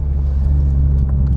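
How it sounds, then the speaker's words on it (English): Steady low rumble of a car sitting in slow road traffic after a road closure, heard from inside the cabin, close and continuous with no talking. "Now I gotta sit in all this traffic again that I was trying to avoid."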